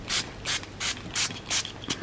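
A small handheld spray bottle of water misting in quick pumps, six short hissing bursts in a steady rhythm, close and fairly loud with no talking.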